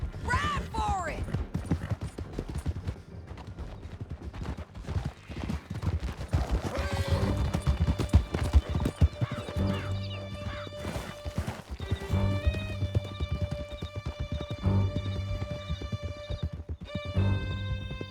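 Several horses gallop hard in Red Dead Redemption 2, a dense drumming of hooves with neighs and whinnies over a loud game score, voices shouting briefly early on.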